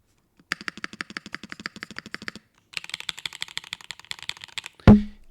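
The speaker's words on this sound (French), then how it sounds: "sur ce genre de clavier, pas de foam, parce qu'on est quand même sur des claviers haut de gamme, donc il va sonner bien sans foam" Close, crisp keystrokes on a high-end mechanical keyboard built without foam, typed in a fast steady run, a short pause, then another burst ending in a heavier thump.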